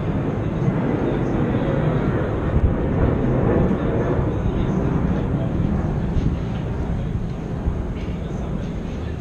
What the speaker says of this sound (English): I'll wait for the plane.